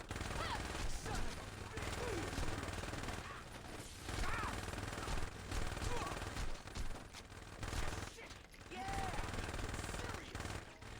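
Repeated bursts of automatic gunfire in Saints Row 2 come in rapid volleys with short gaps between them, fairly quiet against a busy game background.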